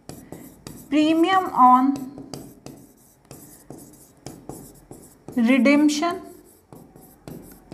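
A pen scratches across paper as an accounting journal entry is written, with faint intermittent strokes between stretches of someone talking nearby.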